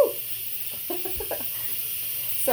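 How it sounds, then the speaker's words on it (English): An Instant Pot pressure cooker vents steam while chili cooks, giving a steady close hiss across the clip with a few brief chirping, clucking sounds partway through. "it's a little bit shocking when you first bring that steam out"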